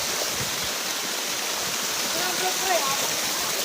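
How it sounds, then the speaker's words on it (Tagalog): A river near the three crosses of Paete, Laguna, rushes steadily with a broad, even wash of flowing water, close and constant, while a voice speaks briefly over it. "Ayan guys, yung ilog guys."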